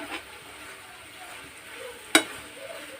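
A pasta mixture is stirred in a pan until it dries out, giving faint, soft scraping with one sharp metallic clink partway through.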